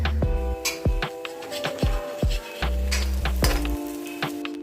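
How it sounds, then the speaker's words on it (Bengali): Semolina chilla fries in a little oil in a covered pan over a medium flame, giving a steady soft sizzle broken by a few light clinks of utensils. "এই চিলাগুলো কিন্তু মিডিয়াম ফ্লেমে 7 থেকে 8 মিনিট এদিক ওদিক করে চাপা ঢাকা দিয়ে ভেজে নিতে হবে"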